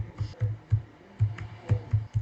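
Keystrokes on a computer keyboard while typing in MS Word, a short run of separate, moderately close taps in an irregular rhythm with brief pauses, heard alone without talk.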